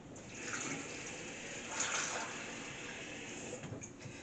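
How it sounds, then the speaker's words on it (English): Water running from a tap into a saucepan of potatoes, a steady close hiss and splash that swells slightly midway and continues without pause, with no talking. "you need just enough water to cover your potatoes before you put them on to cook"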